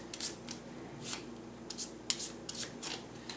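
Game cards being shuffled and mixed together by hand, giving short papery riffles and swishes in irregular bursts, quiet and close with no talking.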